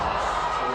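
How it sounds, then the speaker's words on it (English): Crowd cheering and applauding for a climber on a lead route at a climbing semi-final in Wujiang, a steady broad roar of many voices filling the venue with no break. "He's getting lots of support. The crowd are loving his run here."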